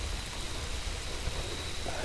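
Steady rain and low rumbling thunder from a storm over an island campsite in Rhode Island, a constant dense hiss with deep rolling undertones, close and fairly loud, with no voices.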